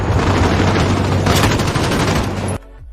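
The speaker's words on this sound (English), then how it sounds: "the audio-visual feedback of firing guns and detonating explosives" Gunfire and explosions in Call of Duty Modern Warfare form a loud, dense barrage of rapid shots and rumbling blasts that rolls on without a break, then cuts off sharply to near silence.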